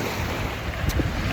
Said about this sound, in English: these waves right here, boy, god damn, these joints is fierce